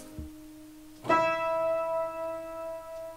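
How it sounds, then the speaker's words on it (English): A single E note is struck and rings on with rich, bell-like overtones that slowly decay, preceded by a soft low thump. "we can allow yellow to be represented by an E, which would sound like this."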